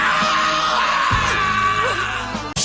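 A man imitates the drawn-out scream of Yamcha from Dragon Ball, a loud, strained yell held for about two seconds before it cuts off abruptly.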